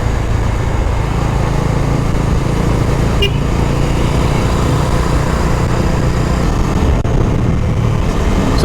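A Bajaj Dominar 250 motorcycle with a buzzing fault runs steadily and loudly up close, a continuous droning hum with a faint tick partway through, no voices.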